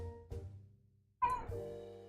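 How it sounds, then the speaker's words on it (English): A cat meows twice up close, a short call and then a longer, rising, more insistent one, in a quiet room. "Your cat's going crazy."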